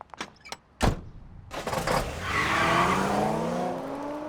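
A stolen truck in an adult cartoon starts up with a few clunks, then revs and pulls away with tire screech and a steadily building engine roar, close and loud.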